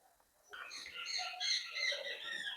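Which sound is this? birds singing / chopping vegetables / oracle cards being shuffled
birds singing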